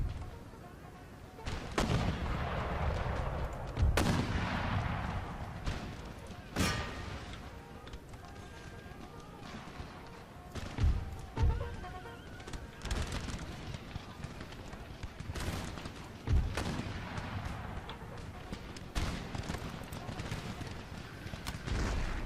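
Musket volleys and artillery fire in Empire: Total War, a US force pressing toward Berlin. Repeated sharp booms and crackling shots land over a constant battle din, with voices speaking throughout.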